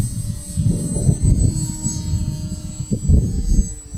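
A Skynetic Sbach 342 RC airplane with a slow-flying prop motor taking off in a crosswind: a steady propeller whine and buzzing motor drone, close and fairly loud, with a high thin tone over fluttering low rumble, no talking.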